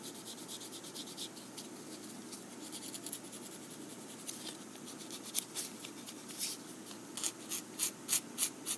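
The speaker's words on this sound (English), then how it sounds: "And use some fine sandpaper, like 220. This is pretty delicate, so we have to use delicate stuff. So now I can refine those edges." Fine 220-grit sandpaper rubbing along delicate wood veneer edges in marquetry work, a soft steady scratchy hiss that grows into quicker, rhythmic strokes toward the end, close and quiet.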